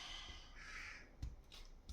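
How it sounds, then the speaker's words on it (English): Crows cawing outdoors near a walking spot, a few harsh calls at a distance over a quiet background hiss with faint low rumble. "Try to ignore the encouragement of the crows in the background."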